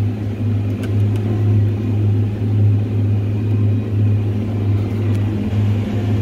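A Fendt 724 tractor engine drones steadily while mowing hay, a loud low hum with constant rumble that holds even from start to finish, with no talk.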